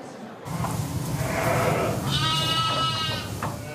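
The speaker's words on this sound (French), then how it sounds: "Camille Lassalas donne à manger aux 750 brebis de son exploitation" A flock of ewes, 750 on the farm, bleats loudly at morning feeding time in a barn, several overlapping calls rising over shuffling and background noise.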